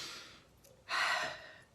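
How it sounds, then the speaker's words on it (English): Slow, deep breathing, a soft exhale first and then a louder, longer breath that swells and fades away, close and alone with no talking. "3 deep breaths."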